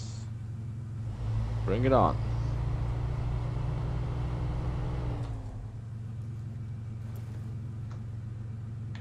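A GMC truck engine idles in the off-road game Snowrunner with a steady low rumble that swells briefly and then settles before dropping lower. A voice talks over it.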